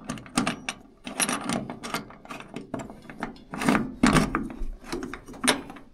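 A screw is worked into a metal mounting rail for a home-built solar panel system made from used old panels. It gives irregular scraping, ratcheting and rubbing bursts close up, with brief pauses between turns.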